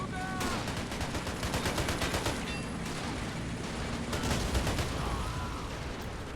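Attacking Russian troops fire a constant barrage of rifle and machine-gun shots during a World War II battle for Berlin in a video game with the RobZ Realism Mod, a dense, roaring wall of gunfire at steady loudness.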